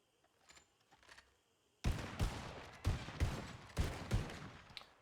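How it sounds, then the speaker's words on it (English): Gunshots fired at a scarecrow target in a role-play video game, several sharp reports in quick succession after a quiet start, loud and close, with about five distinct bangs spaced under a second apart. "I just want you to fire 3 rounds into that scarecrow"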